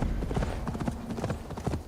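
Horse hooves clip-clopping in the game Assassin's Creed Valhalla, a brisk continuous trotting rhythm heard close and loud, with no talking over it.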